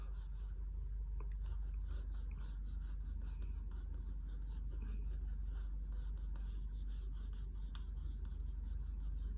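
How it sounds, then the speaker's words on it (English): A pencil scratches lightly and softly across paper, sketching the irises of a cartoon eye in quiet continuous strokes. "we have to very lightly draw the irises of her eyes"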